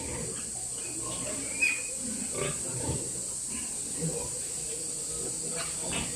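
Pigs on a large pig farm grunt and snuffle faintly under a steady hiss of farm background noise, with no clear single call standing out.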